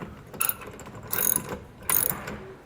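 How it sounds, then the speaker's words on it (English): A ratchet fitted with an 11/16 socket tightens a ladder rack bolt on a 2021 Ford F-250 truck bed, giving three short bursts of close metallic clicking with brief pauses between strokes. "Now I just need to take my 11/16 socket here with my ratchet and begin tightening it"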